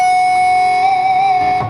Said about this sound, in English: I can reach up here behind the nut and give the G string a little